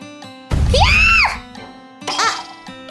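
A woman lets out a long, loud, piercing scream that rises and falls, followed by a shorter second cry over quiet background.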